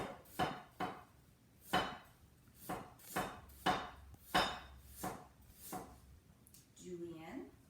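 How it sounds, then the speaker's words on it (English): Peeled ginger sliced thin with a knife on a board for Shanghai rice cakes, about nine sharp, evenly spaced chops close by, with a voice speaking briefly at the end. "now, ginger, you peel it. And then you want to thinly slice it."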